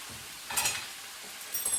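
Sliced pork belly frying in a pan gives two short bursts of faint sizzling crackle against a quiet background.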